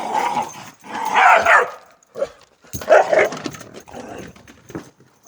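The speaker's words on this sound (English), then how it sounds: "The dogs are fighting." Dogs snarl, yip and bark in a scrappy fight outside on a brisk winter night, bursts of growling and barking broken by short pauses, fairly close and loud.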